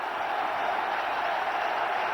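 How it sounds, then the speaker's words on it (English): Cricket crowd roaring and applauding as the Indian captain Mohammad Azharuddin brings up his century against Australia, a dense, steady wash of cheering and clapping that holds at full level throughout. "Well, the crowd go berserk."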